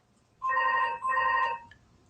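A telephone rings indoors in two clear, steady electronic bursts with a short gap between them, then falls quiet.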